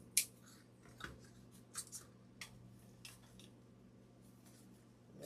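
Scissors snipping through a ribbon loop while a fall wreath is being made, a few sharp close snips spread through quiet crafting noise.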